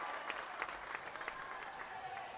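Spectators at a Stewartville high school basketball game cheer and clap after a score, a steady, distant wash of applause and crowd noise with faint voices mixed in.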